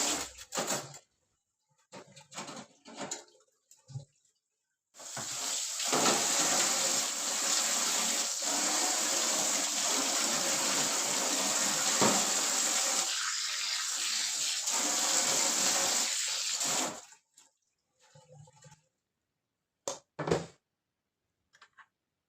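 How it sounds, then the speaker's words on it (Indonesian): Tap water runs steadily for about twelve seconds while used containers are washed at a home kitchen sink, with short clatters and splashes of handling before and after the flow. "Seperti biasa kita cuci dulu ya, apa namanya, wadah-wadah yang tadi kita pakai."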